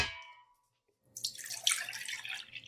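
Cream is poured into a vessel for homemade cream cheese, a steady liquid splash and trickle that starts after a brief quiet moment and runs continuously to the end, fairly close.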